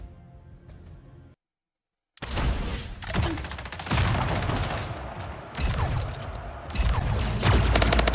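Gunfire in the video game Splitgate comes in loud, dense bursts of rapid shots, close and punchy. It starts after a short stretch of music and a brief silence, then continues almost unbroken to the end.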